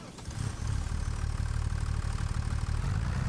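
A tractor engine idles in Farming Simulator 25, a steady low rumble with a mechanical throb running at even loudness throughout, no voices over it.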